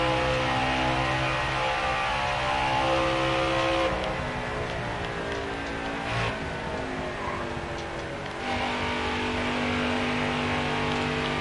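Engine of a NASCAR truck in the NASCAR Heat 4 racing game, Gander RV 150 race, droning and revving steadily with harmonic engine tones that dip briefly around the middle before climbing again, no voices.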